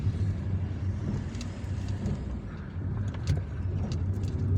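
Steady engine rumble and road noise from a car driving through the Buruba district of Algiers, heading from Bachdjerrah toward the Grand Mosque; a continuous low drone with a little traffic noise, no talking.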